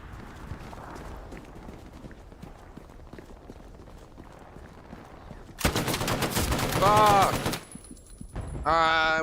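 Gunfire from the World War II video game Hell Let Loose on the Tobruk map: after a stretch of faint background noise, a loud burst of shots and battle noise hits, with fighting sounds continuing to the end.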